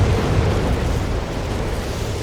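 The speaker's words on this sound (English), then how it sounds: "As the whiz-bangs just fire off rocket after rocket here." Whiz-bang rocket artillery hitting in Company of Heroes 3: a sustained, heavy roar of overlapping blasts, loudest at the start and easing slightly, rumbling without pause.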